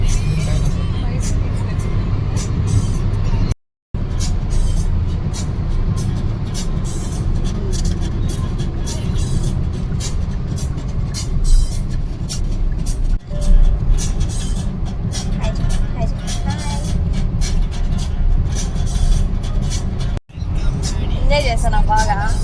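Steady road traffic rolls past on the Kanakapura Road expressway near Mysore during Dasara, a continuous loud rumble with vehicles passing close by, while people talk over it and a couple of brief dropouts break the flow.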